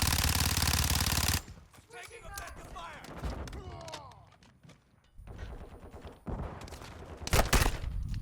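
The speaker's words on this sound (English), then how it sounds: "that's a fucking sentry turret" A sentry turret in Call of Duty Modern Warfare 2 firing: loud bursts of rapid automatic gunfire, one sustained stretch and later shorter volleys, mixed with game effects and someone talking.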